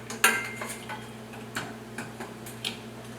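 Magnetic lid lifter picking up metal canning lids for homemade dill pickles, several light metallic clinks and ticks spaced irregularly, close and crisp, over a low steady hum, no talking.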